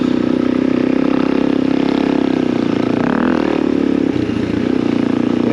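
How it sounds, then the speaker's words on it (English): A motorcycle rides over erosion control humps on a dirt trail, its engine droning steadily up close and briefly surging and changing pitch as it crests a bump. "Erosion control humps are kind of a pain in a Jeep, but on a motorcycle they're just a blast."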